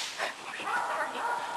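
Annie, a 10-month-old young dog, gives high, thin whimpers and short yips in quick succession, close by and fairly faint.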